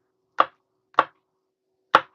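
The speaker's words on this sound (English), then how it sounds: "Look at that chopping." A knife chops food on a board in three sharp, isolated strokes with long pauses between them, close and crisp against a quiet background, no talk.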